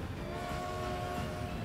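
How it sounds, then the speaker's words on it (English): A train passes in the video game Transport Fever as a steady low rolling rumble with a faint sustained horn-like tone running through the middle, with no voices. "That should allow that train to go through."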